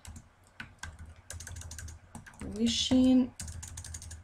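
Keys click on a computer keyboard in a quick, irregular patter as a message is typed, with a short spoken word breaking in partway through before the tapping resumes.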